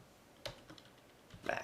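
Computer keyboard typing in NetBeans: a few soft key clicks, with a quiet gap between two short bursts of keystrokes, close and faint, with no talking.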